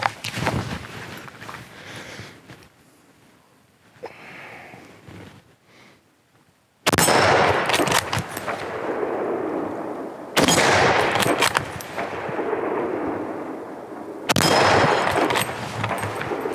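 Rifle shots at a shooting range comparing Frankonia, Sabatti and FN Supreme rifles: three loud sharp cracks, each followed by a long ringing decay, with quieter distant rumbles and shots beforehand.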